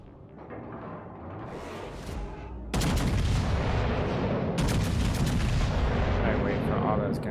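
Main battery salvos from the Tier VIII battleship Kansas in World of Warships, aimed at an enemy Monarch: heavy booming gunfire that lands hard partway through and rolls on in loud, dense waves.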